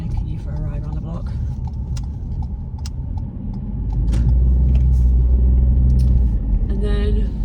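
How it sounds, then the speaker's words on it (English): A car rolls around a residential block, its engine and road rumble steady and close from inside the cabin, swelling louder partway through as it picks up speed, with some faint rattles. "Just taking you for a ride around the block."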